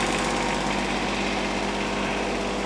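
Small Kubota engine running steadily close by, a dense, even mechanical chug and hum that holds without change and has no voices over it.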